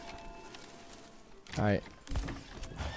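A horse in the medieval city-builder game Manor Lords gives a brief clatter of hooves and a snorting neigh at mid-loudness. Someone says a single word just before it.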